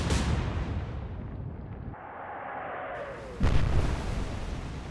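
Big ship guns thunder in the naval battle game Atlantic Fleet: a booming blast rolls off, a shell whistles down through the air, then a second sharp, loud explosion hits with rumbling aftermath.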